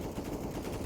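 Rapid automatic gunfire from a CS:GO tournament match on the Nuke map, a dense rattling burst that runs without pause through the short moment, loud and close.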